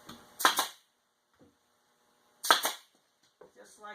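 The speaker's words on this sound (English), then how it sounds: "That's so we can shoot some nails down here and lock it into place." A nail gun fires nails into a base cabinet ledge with two sharp, loud snapping shots about two seconds apart, each with a brief rattle after it, close up and without talk.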